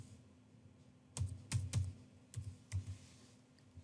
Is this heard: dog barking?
no